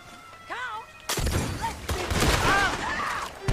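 Gunfire in a western-style shooter video game: a sudden loud burst of shots and crashing impacts erupts after a quiet, whistling moment, continuing as a dense, noisy clatter with tonal game sounds layered on top.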